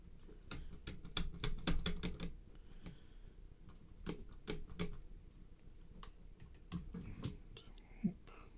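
Sharp clicks of a 3D printer filament connector join being cut, snapping in a quick irregular burst then spaced out singly, close and fairly quiet over faint background noise.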